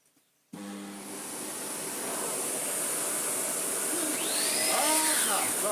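A Sebo Airbelt C3 vacuum cleaner with a Sebo ET-H powerhead switches on abruptly and settles into a loud steady whooshing roar with a high whine, while a person speaks faintly underneath toward the end.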